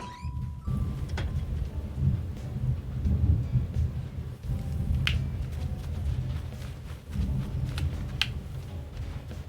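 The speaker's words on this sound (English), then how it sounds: "This thunder do be cray-cray though." A steady rumble of thunder and pouring rain rolls on throughout a stormy scene in the video game Animal Crossing: New Horizons, with a few sharp crackles and drips breaking over the continuous low roar, no voices.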